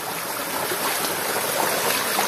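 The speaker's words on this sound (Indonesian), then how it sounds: "Oh, sungai batu nih." A rocky river flows with a steady, loud, broadband rush of water over stones, continuous and even with no voices.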